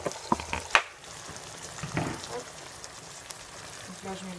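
Potatoes tip into a hot pan of spices and begin frying, with a few clattering drops and splashes, then a soft steady sizzle under quiet background noise.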